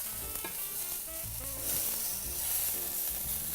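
Eryngii mushrooms, asparagus and snow peas brown gently in a frying pan, giving a soft, continuous sizzle with faint stirring clicks and scrapes and no talking.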